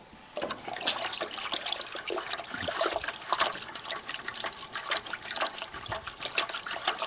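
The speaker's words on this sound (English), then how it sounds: "So I'm going to take a little bit of water out, pour that in." Cold water poured from a container over sugar makes a close, continuous trickling splash that runs steadily for several seconds, with no talk over it.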